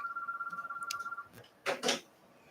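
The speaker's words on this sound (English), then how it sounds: "you cannot call like that phone ringing in the background. That was line 2 ringing" A telephone on line 2 rings in the background of a live local talk radio call-in show, a steady warbling electronic trill lasting over a second, followed by a few brief knocks and rustles.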